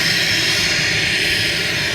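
Another light aircraft's engine running up at an airfield, a loud, steady roar with a constant high whine that holds without a break.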